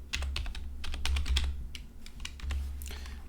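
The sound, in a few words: typing C++ code on computer keyboard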